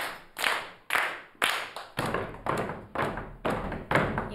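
Schoolchildren in a classroom clap a number out together, about nine loud, evenly spaced group claps in a steady beat.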